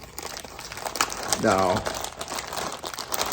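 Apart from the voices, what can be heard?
opening the packaging of aftermarket TZ label tape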